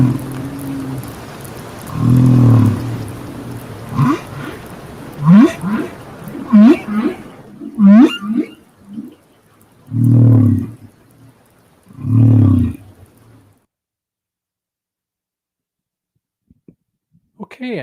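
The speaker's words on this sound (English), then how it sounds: "So now we're going to hear just one phrase from a humpback whale." A single humpback whale song phrase of low, drawn-out moans and rising, swooping calls in a repeated pattern, with loud low moans recurring at steady intervals and ending in near silence.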